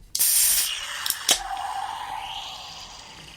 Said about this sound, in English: let's go ahead and crack open this vanilla Nitro Pepsi